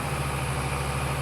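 A tractor engine idling in the Farm Sim video game: a steady, loud, continuous rumble with an even low hum throughout, no speech.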